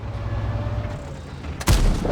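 A tank cannon shot in World of Tanks strikes and penetrates a turret, landing as a single sudden loud boom near the end after a steady engine rumble.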